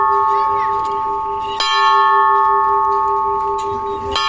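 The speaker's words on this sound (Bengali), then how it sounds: "ঘন্টা বাজাতে পারলে অস্মিরানি আর কোনো কিছু চায় না" A ringing temple bell at a Hindu temple, its sustained metallic tone humming throughout with two fresh strikes that renew the ring, and a voice faintly under it.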